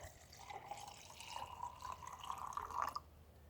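Clear cola pours from a bottle into a glass, giving a thin, continuous trickling stream that swells and gurgles toward the end before stopping abruptly, with no talking.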